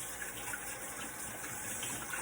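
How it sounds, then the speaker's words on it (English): Running tap water pours steadily in a kitchen sink while hands are washed, a close, even gush of splashing water for a couple of seconds with no talking. "Let me wash my hands."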